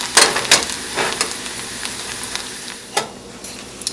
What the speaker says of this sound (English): put our sage into the pot, and you just want to let it cook until it turns nice and crispy.